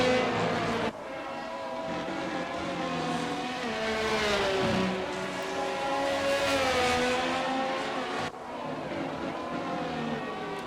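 Formula 1 car engine in the F1 22 racing game at the Hungarian Grand Prix, a loud continuous high-pitched whine rising and falling through gear changes and a lift near the end, on a slippery car running wide over corner exits.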